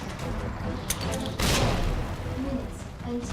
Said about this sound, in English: This is what I needed the grenade for.